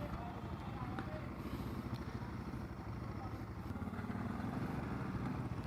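Motorcycles rumble at the start of a long bike ride from Kolkata toward North Sikkim, a steady low engine drone running continuously while someone talks over it.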